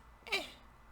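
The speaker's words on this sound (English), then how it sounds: "cat's here." A house cat gives a single short, quiet meow, close by, in an otherwise calm indoor room.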